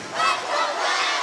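A crowd fills the Matadome arena at Cal State Northridge for a 2006 CIF-LACS boys volleyball championship between Taft and Granada Hills, producing a loud, steady roar of cheering and chatter with no breaks.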